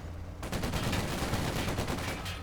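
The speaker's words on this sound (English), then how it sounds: "Bang there the 50 caliber." .50 caliber machine gun fire in a World War II strategy game, a sustained rapid burst of loud rattling shots lasting a couple of seconds over a dense battle din.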